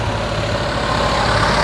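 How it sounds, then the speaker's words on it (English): Perkins diesel engine idling in a Bedford CA ice cream van in a city centre, a steady, close low rumble with a faint rattle and no break. "We've got a Perkins engine in there rattling away"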